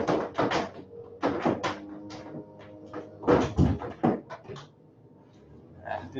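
A door being shut during a lecture, with several sharp knocks and bumps in quick clusters, loud and close, followed by quieter handling noises and near silence.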